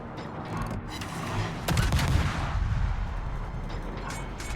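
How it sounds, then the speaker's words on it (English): Z46 destroyer guns in a naval video game firing on the battleship Friedrich der Grosse, heavy booming salvos with a sharp loud blast midway, over continuous low battle rumble. "I'm going to now fire on the Federgrosser while I've still got the smoke."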